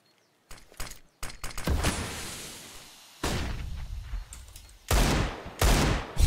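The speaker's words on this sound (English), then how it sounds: "The deagle shots" Loud, close Desert Eagle pistol shots in Counter-Strike: Global Offensive, fired singly and in quick bursts amid surrounding gunfire during a competitive match, with sharp cracks and echoing tails.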